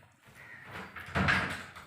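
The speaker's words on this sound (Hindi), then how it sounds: "दरवाज़ा बंद करके आओ।" House door being pulled shut, a soft sliding sweep followed by a muffled thud, fairly faint and close with no voices.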